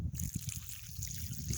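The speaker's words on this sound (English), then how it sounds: "I'm just going to pour a little bit of this water that it was sitting in overnight." Water from an overnight soak poured onto garden soil for planting a tree, a steady near trickle and splash running continuously and fairly quietly.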